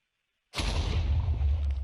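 TNT blowing up in Minecraft, an abrupt loud blast after a half second of silence, followed by a sustained rumbling roar with deep low-end weight that carries on to the end.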